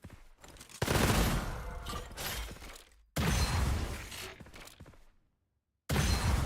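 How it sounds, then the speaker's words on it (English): Sniper rifle shots in the video game Gunfire Reborn ring out as loud, close blasts with crashing, mechanical tails, in two long bursts separated by a brief silence before another shot. "So we get 11 shots with the sniper rifle."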